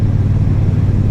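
A Triumph Bobber Black motorcycle cruises at about 55-60 mph, a loud, steady low engine rumble mixed with heavy wind buffeting, brief and unbroken.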